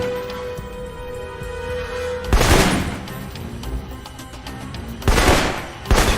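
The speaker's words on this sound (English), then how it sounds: "For long-range encounters, the assault rifle's the key." Assault rifle fire in the video game Alpha Protocol: two loud, dense bursts of rapid shots, the second followed by a brief final burst, over a steady low game hum with no talking.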